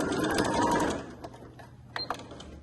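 A sewing machine backstitches a seam on a family-size fabric beach bag. A loud, close burst of whirring stitching runs for about a second, then stops, followed by a few faint clicks and handling noises.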